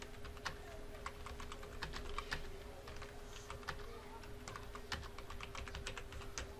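Steady typing on a computer keyboard, a quick run of sharp clicks and key taps throughout, moderately close and fairly quiet, with a faint steady hum beneath.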